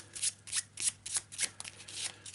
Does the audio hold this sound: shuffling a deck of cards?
yes